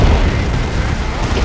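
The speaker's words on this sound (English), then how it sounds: "There is the barrage." Sustained rumbling artillery barrage in the strategy video game Dawn of War 2, a dense, loud roar of overlapping explosions with no distinct gaps.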